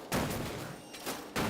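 Heavy booming blasts in Elden Ring come from the Bolt of Gransax weapon skill exploding with a wide splash, with two or three loud impacts and rumbling tails in quick succession.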